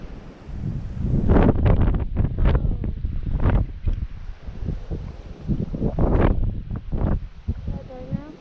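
Gusty wind buffets the microphone outdoors on a fishing outing in East Gippsland, a steady low rumble under close, intermittent talk between a father and daughter.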